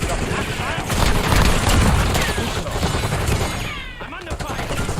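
Rapid video game gunfire crackles in dense bursts throughout, loud and close, with a voice talking over the shooting.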